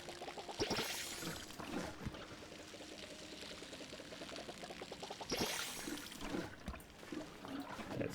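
Crops being watered with a watering can in the farming game Palia, a soft continuous pouring splash that runs steadily, briefly fades, then resumes, quiet and close with no talking.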